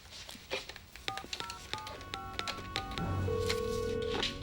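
A phone number being dialed: a quick run of separate button beeps, each a short tone, then a longer steady tone at the end as the line connects, close and clear over faint room noise.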